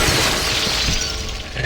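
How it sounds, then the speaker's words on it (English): Window glass shatters loudly and close as a slasher smashes through it in a horror video game, a single dense crash with tinkling shards trailing off over under two seconds. "breaking the glass and creating an exit"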